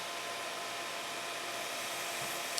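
A belt grinder runs steadily, its abrasive belt hissing loud and even as a circular cutter's bevel is pressed against it for sharpening, with a brief sharper tick near the end.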